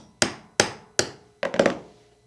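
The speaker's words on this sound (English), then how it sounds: "I'm going to use my 3/32 roll pin punch to tap that pin all the way through and remove it" A 3/32 roll pin punch is struck sharply three times at an even pace on a Springfield SA-35 pistol's hammer strut pin, then a quicker cluster of lighter metallic taps follows, close and crisp with no talking.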